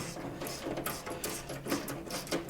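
A Capri Tools 1/4 inch socket ratchet tightens a loose bolt, giving a run of quick, close mechanical clicks and rattles at a fairly steady pace, with no talking.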